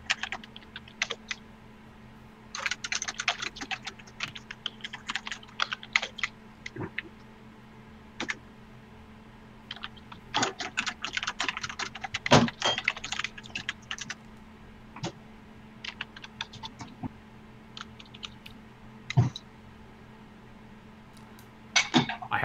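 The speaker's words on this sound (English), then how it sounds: "Hold on, I'm still typing." Typing on a computer keyboard in irregular bursts of rapid clicks separated by short pauses, close and clear over a quiet room hum.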